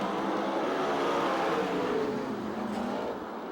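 USAC/CRA sprint cars race a heat at Perris, California, a continuous loud roar of several engines at full throttle, blending into a dense whine as the pack circles.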